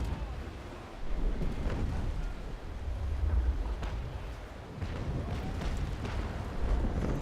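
Broadside of 6-pounder long cannons fired from a sailing warship in the naval battle game Naval Action Legends, deep booming rumbles rolling together over wind and sea noise, with no speech.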